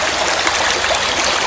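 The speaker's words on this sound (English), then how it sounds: "you've got a set of white water and then a calm pool, and then another little set of white water here" White water rapids in a stream rush loudly and continuously close by, a dense hissing flow of tumbling water with no pauses and no voices.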